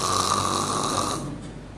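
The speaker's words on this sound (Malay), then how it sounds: "Ada yang memalukan kadang-kadang tu," A person snoring at the back of a prayer hall, a steady, loud rasping drone that carries on without pause and then fades toward the end, with no talk over it.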